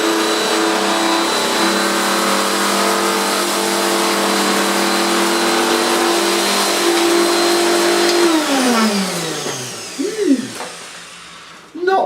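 A Dirt Devil vacuum cleaner runs on carpet with a loud, steady whining motor drone. Near the end its pitch sinks as it powers down, followed by brief clunks and bumps.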